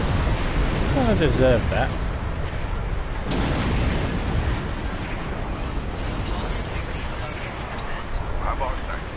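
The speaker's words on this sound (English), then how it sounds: "I passed too close to the exploding box ships" Box ships exploding in the PS4 game Star Trek Online, heard as heavy booming blasts and rumbling debris noise, loud and continuous, with a short spoken remark over it.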